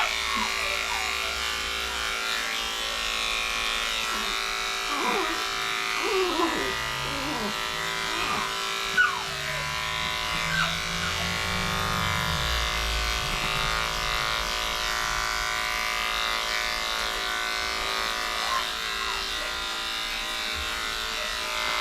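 Electric clippers shave down a badly matted dog with a constant low buzz that runs the whole time. Someone talks softly over it now and then, with small scuffs and handling noises in between.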